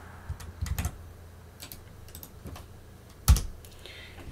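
Typing a command on a computer keyboard, a handful of sparse, close key clicks and taps scattered across a few seconds, ending with one sharper, louder press, with no talking.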